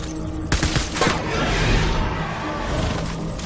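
Video game gunfire in sharp bursts, loud and close, with a heavy volley around the half-second mark and again near one second, then a sustained rumble of shots and echoes.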